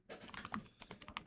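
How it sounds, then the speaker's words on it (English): Fingers type a short command on a computer keyboard, a quick, close run of light key clicks with uneven rhythm over about a second. "This is where we'll type npm"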